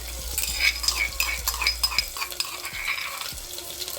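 Garlic paste, cumin and onions sautéing in hot oil in a pan, with a soft continuous sizzle under repeated scraping strokes of a stirring spoon. The sound is close, and no one speaks over it.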